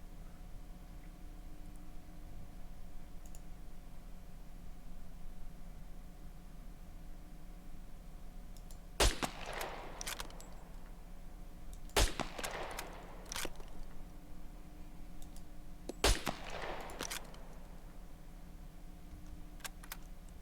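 Three sharp, well-spaced 22 caliber rifle shots ring out in the survival video game SCUM, each a crisp crack with a short echoing tail over a quiet background hum.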